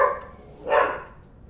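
A dog gives two short barks, one at the very start and a fuller one just before the middle, fairly faint and somewhat distant against a quiet background.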